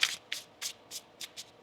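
Tarot cards are shuffled in six quick, soft papery bursts at an even rhythm, close and quiet with no talking.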